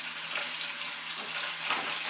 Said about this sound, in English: let me turn this water off